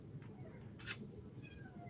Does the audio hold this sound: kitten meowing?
yes